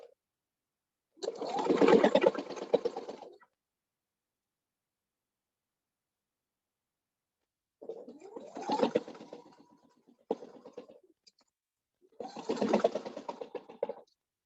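A sewing machine stitches a drum bag in three separate bursts, a long run near the start and two shorter runs later, each a steady mechanical chatter with quiet gaps between.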